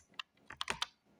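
Typing on a computer keyboard, a short burst of about seven crisp, close keystrokes in an uneven rhythm, with quiet gaps between them.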